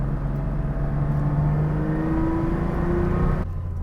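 A Porsche 911 RSR 3.6 engine running steadily up close, a loud droning idle whose pitch slowly rises, then cuts to a lower tone near the end; no talking.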